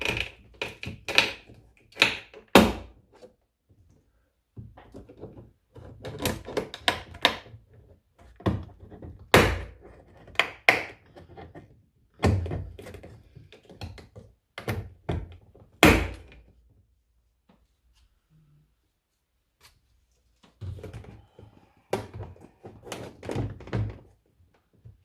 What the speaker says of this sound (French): pour les garnitures de porte, j'utilise le coffret que m'avait envoyé Max Speeding Drugs pour démonter les garnitures de porte